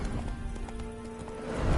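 Horse hooves clip-clopping at a gallop in The Witcher 3, quick rhythmic thuds under a steady game soundscape with a low rumble rising at the end, brief and moderately loud.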